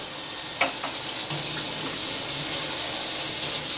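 Soy sauce poured out, roughly half a cup's worth, gives a steady close splashing, trickling flow that runs continuously with no voices.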